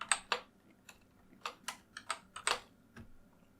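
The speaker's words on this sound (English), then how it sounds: "press Shift F on the keyboard" Keys pressed on a computer keyboard, about a dozen quiet, close clicks in an irregular rhythm, including a quick pair and small clusters, with no talking.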